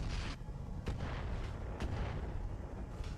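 Enemy lance firing on a Panther mech in a BattleTech-style game: a dense barrage of heavy booming weapon blasts and impacts, loud and rumbling throughout, with sharper cracks standing out and no talking.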